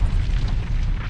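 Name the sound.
volcanic explosion on Venus, sound effect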